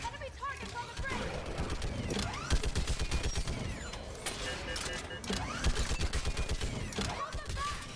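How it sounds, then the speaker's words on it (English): A mounted gun fires in the video game Mass Effect 3, rapid bursts of heavy automatic shots crackling almost continuously alongside battle noise and distant explosions. "Get on that gun up there and do some damage!"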